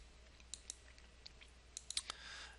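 Several quiet, sharp computer mouse clicks, including a right click, come in a loose cluster around the middle and end while a building is being modelled, with no talking.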